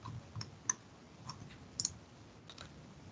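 Sparse computer mouse clicks while working in CAD software, a few soft, brief clicks spread irregularly, with a quick double click near the middle, close and quiet against a faint room background.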